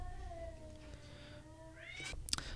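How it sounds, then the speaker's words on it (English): A pet cat fighting a neighborhood cat: a long, drawn-out yowling wail rising and falling at a distance, ending in a sharp scuffling screech. "my cat found another neighborhood cat and gave it a bit of a rough and tumble"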